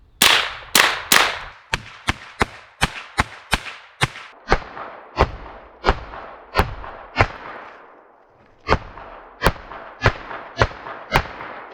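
A Smith and Wesson M&P 15-22 .22 rifle fires a long string of sharp, loud cracks, some closely spaced and others at steady intervals, with short echoing tails, one pause, then more shots. No voices.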